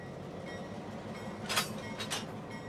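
Railcars of NASA's mission-critical train fleet at its rail maintenance facility, a low steady rolling rumble with a couple of brief metallic squeals or clanks near the middle, fairly quiet and with no talk.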